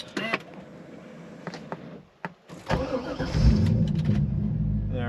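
A C5 Corvette with a charging system fault cranks briefly, then its engine catches and settles into a steady, rumbling idle, heard up close after a few clicks and thumps.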